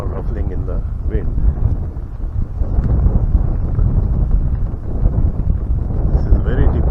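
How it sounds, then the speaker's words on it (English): Wind blows steadily across a hillside in Bhutan, ruffling a cluster of about 108 prayer flags, producing a constant, close buffeting rush with low gusty rumble for the whole stretch. "you can see there are actually about 108 flags here, all ruffling in the wind"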